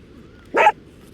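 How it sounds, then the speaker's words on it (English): A single short dog bark close by, a quick burst standing out against a quiet room background. "there's a dog over there"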